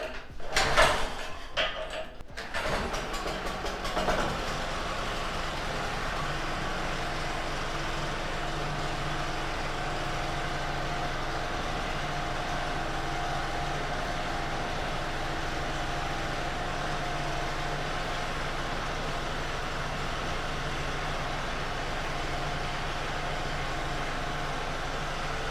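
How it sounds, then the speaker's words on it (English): A small portable generator being repaired is kickstarted with a few rough, clattering pulls before catching, then settles into a steady, continuous engine drone that runs unbroken nearby. "I'll be putting the generator on and inserting my test lamp"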